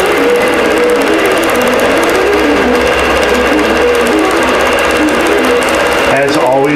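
An embroidery machine stitches a design onto a tree skirt, giving a steady, fast mechanical whir and rhythmic needle clatter for several seconds. The sound stays close and continuous, with a voice talking over it, and near the end a brief change follows.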